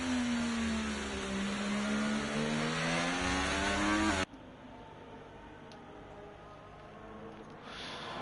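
Ferrari race cars in a sim racing league event at a Spanish circuit, engines revving loudly with rising and falling harmonic pitch for about four seconds before cutting to a quieter, noisy track ambience with faint engine sounds.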